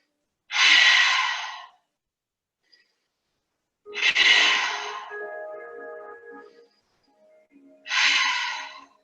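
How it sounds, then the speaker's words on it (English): Three slow, deep breaths in a calm breathing exercise, each a long airy inhale or exhale spaced a few seconds apart, close and clear against silence, with a faint tonal hum under the middle breath. "Let's take 3 deep breaths."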